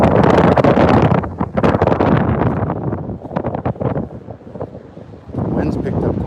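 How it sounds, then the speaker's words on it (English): Strong wind buffets the microphone on Madeira Beach, loud gusty rumbling roar that rises and falls, easing briefly before surging again. "Wind's picked up quite a bit."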